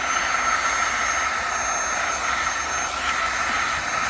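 An Autobot VX Max car vacuum running on carpet and pulling up glitter, a constant close whirring hum with airy suction hiss that stays even throughout, no talking.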